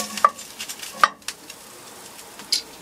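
An egg sizzles and crackles in a hot frying pan inside a camper van, a soft, steady frying hiss broken by a few sharp clicks and scrapes of utensils against the pan.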